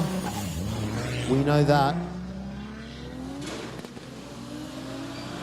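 A drift car revs hard during a qualification run at the National Drift Series Borneo round 3, its engine note rising and falling loudly up close, with a commentator talking over it.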